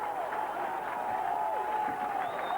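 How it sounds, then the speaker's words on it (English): Large football crowd at the Brandywell roaring and applauding after a goal, a dense, sustained swell of cheering with a broadcast whistle-like tone running through it. "Huge crowd at the Brandywell, delighted with that chance."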